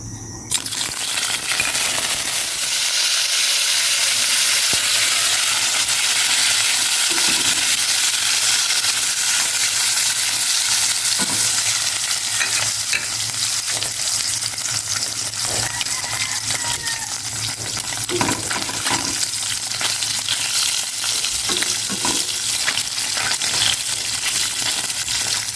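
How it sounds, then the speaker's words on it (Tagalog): Vienna sausage frying in a pan, a loud continuous hiss and sizzle with occasional light clinks, no voices heard. "Magprito muna ako ng Vienna sausage."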